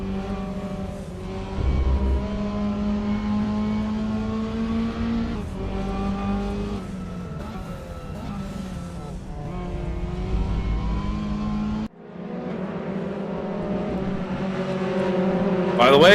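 Race cars revving and accelerating around the Nordschleife in a live sim-racing fundraiser event, engines loud and continuous with shifting pitch throughout, briefly cutting at one point before surging again.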